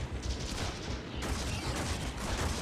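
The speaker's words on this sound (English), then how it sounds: "so we'll just keep firing at it until it decides to explode" Continuous rapid gunfire rattles against a Kubrow den in the video game Warframe, a dense, steady barrage with no pauses, moderately loud.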